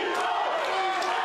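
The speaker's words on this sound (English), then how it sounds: "they're all cheering for the Lennon sisters" A crowd cheering at an independent wrestling event, a sustained wall of loud, close yelling and whooping with no break across the moment.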